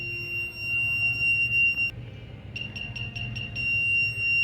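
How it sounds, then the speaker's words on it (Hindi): A homemade circuit gadget held near an electric board gives a quick run of about five sharp, high electronic beeps over a steady background hum. "तो इसे जैसे इलेक्ट्रिक बोर्ड के पास लेकर जाते हैं तो यहाँ पर ये बीप करता है"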